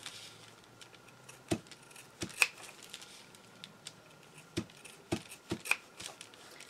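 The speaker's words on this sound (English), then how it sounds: "I'm just going to go around the entire pillow and cut these strips about 1/4 of an inch wide" Scissors snip fabric strips around a pillow, a series of separate crisp cuts at an uneven pace, close and fairly quiet with no talking.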